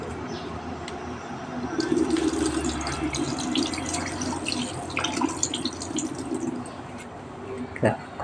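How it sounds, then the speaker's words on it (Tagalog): Moringa (malunggay) leaves rinsed under a running kitchen tap, a steady close wash of water with splashing and dripping that continues throughout, with a brief louder splash near the end. "Hugasan nga ito nitong malunggay guys."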